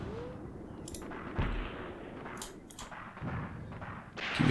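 Gunfire in a World War II tank battle game set at Longstop Hill, Tunisia, 1943: several dull booming shots and thuds over a constant rumbling background, mid-distance and moderately loud.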